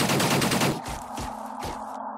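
Gunfire in the tactical strategy game Xenonauts comes as a rapid automatic burst followed by several separate heavy shots spaced about half a second apart, loud and close with no talking.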